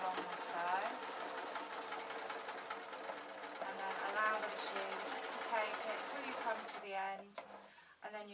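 A sewing machine runs steadily, stitching binding tape onto a jacket with a fast whirring hum, close and continuous, and a voice talks faintly over it before it slows near the end.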